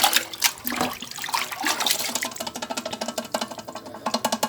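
Melted molasses, standing in for brown sugar, poured while mixing homemade organic NPK fertilizer: a close, gurgling, splashy stream of liquid that surges and pulses throughout, with no voices.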